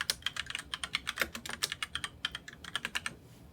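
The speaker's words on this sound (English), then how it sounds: "I type in the opponent for the game I'm board hopping" Rapid typing on a computer keyboard, a dense run of crisp, close key clicks with a brief pause partway before the tapping resumes, with no voices.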